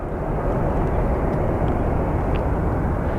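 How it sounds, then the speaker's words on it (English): A big Delta airliner coming in to land at Sky Harbor airport, a steady loud broadband jet roar that holds constant throughout with no voices. "we do have our Delta, our big Delta coming in"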